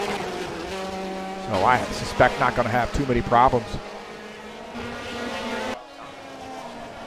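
Race cars run at the Sachsenring circuit in an IndyCar Brasil DTM race, engines rising and falling in pitch as several cars pass close by, under continuous commentary.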